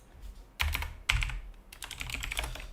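Keys on a computer keyboard are tapped in short bursts, a few distinct clicks followed by a quicker run of typing, close and fairly soft in a quiet room.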